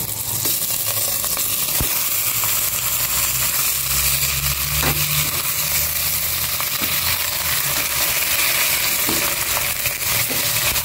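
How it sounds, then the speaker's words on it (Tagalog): Garlic, onion and pork sauté in a hot pan with a steady, loud sizzle and frying crackle, broken by occasional clinks and scrapes of a utensil stirring, no voices. "And igisa ko naman po itong pork"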